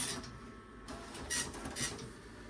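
A Tandy DMP133 dot-matrix printer clearing its buffer and setting top of page, producing faint mechanical whirring with a few short louder bursts of head and feed movement.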